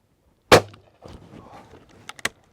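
One loud, sharp blast from a shotgun rings out, then a mechanical rustle follows and two quick metallic clicks come at the end as the gun is handled.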